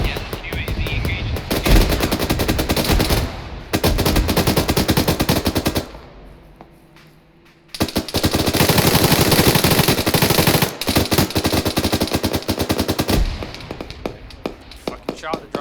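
Intense bursts of automatic rifle and machine-gun fire in a military battle game, loud and close, coming in long sustained volleys with brief pauses and one quieter gap, voices faintly under the shooting.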